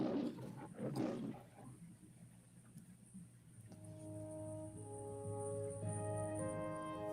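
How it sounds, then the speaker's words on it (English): A lion roars over a live online watch party, deep, rough bellowing bursts up front before fading into a low background, later joined by steady musical tones. "I heard a lion"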